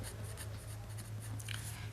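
Pen or marker scratching out a line of a maths solution, a soft continuous writing rasp over a steady low hum, with no talking.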